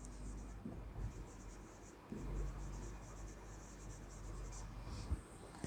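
Marker or chalk writing on a board during a chemistry lesson on biomolecules: faint, intermittent scratchy strokes over a quiet room hum.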